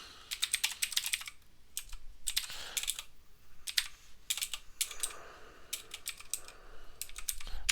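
Fast, close computer keyboard typing in bursts of rapid clicks separated by short pauses, with no talking.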